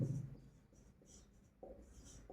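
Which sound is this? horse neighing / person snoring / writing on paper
writing on paper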